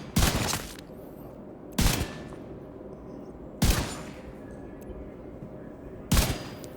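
Four separate bursts of gunfire from the Seska weapon in The Division 2, spaced a second or two apart, loud and close over a steady low background rumble.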